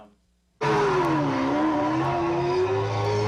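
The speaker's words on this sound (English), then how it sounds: "Hoover slips in one of his favorites, this IMAX race car movie" Race car engine from an IMAX racing film played loud on a home theater system, bursting in suddenly after near silence as a sustained high roar with a rising and falling whine.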